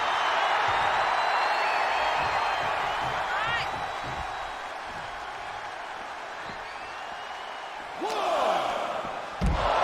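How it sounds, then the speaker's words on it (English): A pro wrestler drives his opponent face-first into the mat at a live wrestling show. A heavy impact lands near the end over a steady roar of arena crowd noise, with whoops and a surge of reaction after the slam. "Slamming his face into Matt's face first and just gripping his face and just huge slam here."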